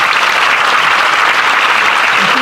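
A crowd applauds steadily and loudly for a group of young birders at a live talk, the clapping dense and continuous throughout without pause.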